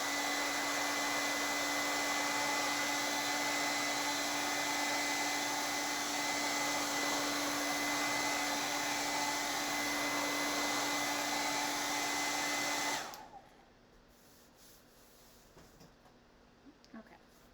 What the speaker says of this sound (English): I'm going to blow dry this just real quick